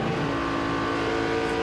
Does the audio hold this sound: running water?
no